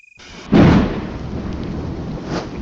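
Thunder from an animated show: a deep, close rumbling crack that swells suddenly and then rolls on as a long low wash.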